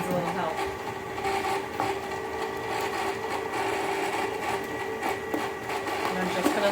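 An ice cream maker churns mint chocolate chip ice cream with chocolate chips mixing in, giving off a steady, close mechanical whir and rattle that runs without a break.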